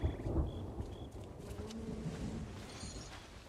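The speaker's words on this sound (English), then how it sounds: "Ooh, that storm is rolling in, though, mateys." Thunder from a storm rolling in within a pirate video game, a low rumbling swell that fades under soft ambient tones and faint chirps, distant and fairly quiet with no talk.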